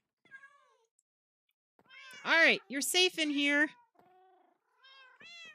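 Minecraft cats meowing in short rising and falling calls, several loud meows clustered in the middle, with a voice speaking briefly at the start.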